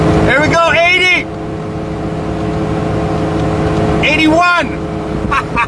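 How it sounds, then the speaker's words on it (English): A Ford Ranger running on half a gallon of Tito's vodka drones loudly at top speed in fifth gear, a constant steady engine and road roar throughout, with voices talking over it in two bursts. "81 miles an hour in 5th gear is the top speed of this Ford Ranger with half a gallon of Tito's vodka in the gas tank"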